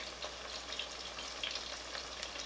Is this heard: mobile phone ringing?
no